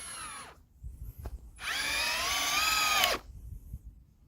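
A power drill driving screws into angle bracing on a wooden backyard chicken coop build: a short burst, a pause, then a longer steady whine of about a second and a half, close and loud.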